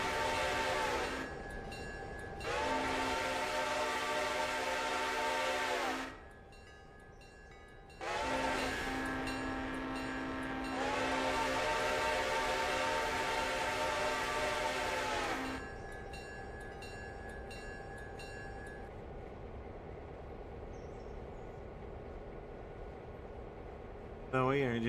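Locomotive running on a railroad in the Realistic Railroader train game, with two long, loud, tonal horn blasts over a steady rolling rumble, then a quieter continuing drone.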